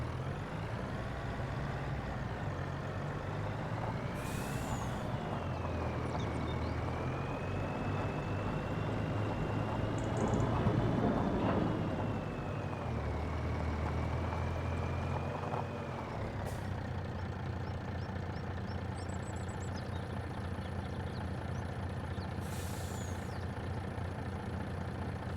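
A truck drives in Farming Simulator 25 on an Owendale, Michigan farm map, its steady engine drone rising and falling in pitch as it shifts and accelerates, with brief air-brake hisses at intervals and no talking.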